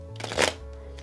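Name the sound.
riffle shuffling a thick tarot card deck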